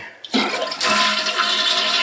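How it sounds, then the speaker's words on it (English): A toilet flushes up close, a sudden rush of water that swells into a steady, loud gurgling drain; one brief word is spoken at the start. "Fun stuff watching a toilet flush, right?"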